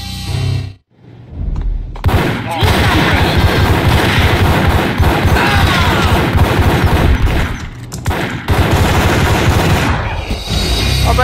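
Sustained bursts of heavy gunfire from the video game Max Payne, with rapid overlapping shots and booms that fill the scene almost continuously after a brief pause, loud and dense with a short dip before resuming.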